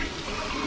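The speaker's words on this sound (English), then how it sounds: "You can flush the toilet." A toilet flushes inside a video game, with a brief, steady rush of water and no voices.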